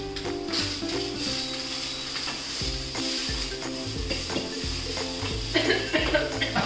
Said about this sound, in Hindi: और अब इनको फ्राई कर दो।